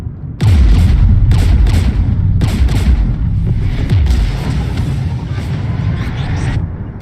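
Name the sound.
gunfire and artillery in Mass Effect 3 video game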